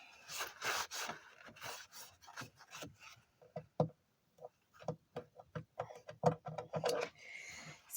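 Scraping and rasping at staples on a wooden cat house, in a run of short, close strokes with brief pauses and a few sharp knocks, no talking.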